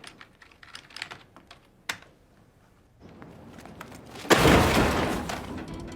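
Fast, irregular clicking of keys being typed on a computer keyboard, close by, for about three seconds, after which a louder rushing, crashing noise takes over.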